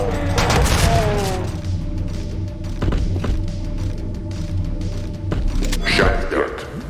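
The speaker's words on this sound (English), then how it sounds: "Shotgun." Shotgun blasts in the video game Doom, several loud booming shots spaced a second or two apart amid other game noise and growls.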